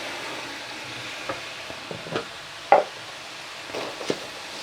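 Chicken seasoned with garam masala fries in a pan, a soft steady sizzle broken by intermittent scraping and clinking stirring strokes, one sharper knock near the middle.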